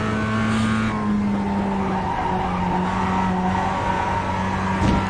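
A Mazda production race car at Lime Rock in a sim racing game runs off onto the grass, its engine droning steadily with a scrubbing, skidding tire rush and a brief harsher burst near the end, loud and continuous without talk.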